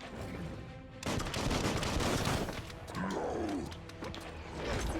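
Gunfire in the Biomutant action game bursts out in loud, dense volleys over a rumbling game soundscape, broken by a short lull and then a swooping whine before more shots.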